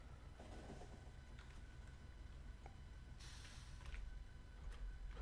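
Train rolling along the tracks in the game Factorio, a faint steady rumble with light clicks, growing slightly louder and more rushing toward the end, no talk.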